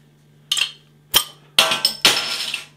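A glass bottle of Vollenhoven & Co Extra Stout with a black cap is handled and poured into a glass: a series of sharp glassy clinks and knocks, about five distinct hits, the last trailing into a brief pour.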